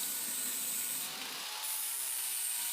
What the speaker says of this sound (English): Now you just want to sand it down at the same angle that we ground in our bevels.